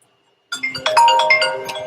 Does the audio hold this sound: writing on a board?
no